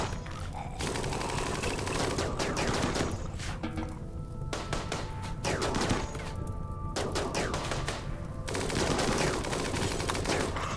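Gunfire in the video game RimWorld: dense volleys of rapid shots and automatic bursts crackle almost continuously, with brief lulls between the loud, close fusillades.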